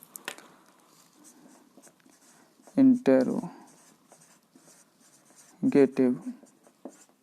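A pen scratching out words on a page while a teacher explains an English tense lesson in Hindi, the writing strokes coming in short bursts between and under his speech.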